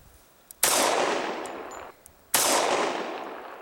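Two sharp, loud pistol shots fired at a fedora target, well apart, each a sudden crack with a long decaying echo trailing behind it, no talking in between.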